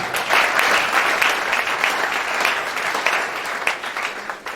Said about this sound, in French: Est-ce qu'on peut acclamer très fort le Seigneur pour Dieu pour cela?